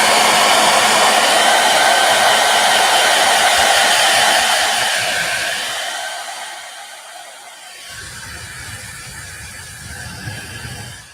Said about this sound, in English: I have a heat pen that makes some of the heavier stuff go really fast.